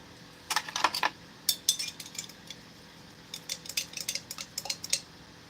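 Metal utensil clinking and scraping inside a 2024 US MRE Menu 2 chicken stir fry ration pouch, coming in two bursts of quick, close, light taps and rattles with a pause between them.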